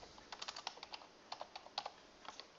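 Quick bursts of keystrokes on a computer keyboard as a name is typed, soft clicks in short uneven clusters, close and quiet with no talking.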